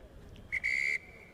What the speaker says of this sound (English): Referee, quick blast on the whistle.